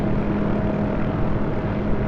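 A Hughes OH-6A helicopter in the DCS flight simulator gives a steady, dense engine and rotor drone that stays constant and close throughout, with no talk over it.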